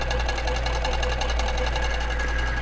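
A QBOT quilting machine sews a long basting stitch through a quilt, giving a steady, continuous mechanical whir and rapid needle chatter that holds at an even, close level throughout.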